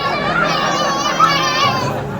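A crowd of children at a birthday party plays and shouts together, a dense, steady clamor of overlapping high voices with one brief louder yelp midway.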